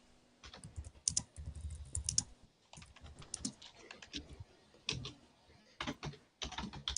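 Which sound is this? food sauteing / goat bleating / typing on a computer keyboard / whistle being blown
typing on a computer keyboard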